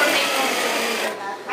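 A sewing machine stitches a drapery panel just inside the 1 inch mark, running as a steady close whirring hum for about a second before winding down.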